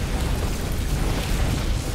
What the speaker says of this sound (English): Well, now 2 cannons are firing